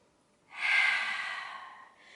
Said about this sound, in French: Inspirez et soufflez